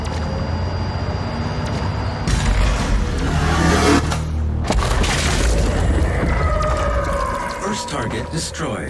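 Heavy explosions in the DOOM Eternal game, with deep rumbling booms bursting in around the two- and five-second marks over a dense, roaring backdrop of layered game sound, with voice-like elements mixed in.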